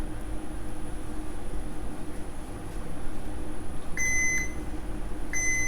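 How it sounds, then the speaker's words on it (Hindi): A multimeter in continuity mode gives two short electronic beeps while probing a coil on an iPhone 6 logic board, each a clear steady tone over a low background hiss. "ये मैंने मल्टीमीटर लगाया, देखिए बीप दे रही है"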